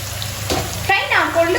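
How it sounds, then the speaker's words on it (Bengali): Jackfruit pieces fry in a pan with a soft, steady sizzle, broken by a few stirring scrapes partway through and some faint background sounds. "আর এদিকে আমার কাঁঠালটাও ফ্রাই হয়ে আসছে।"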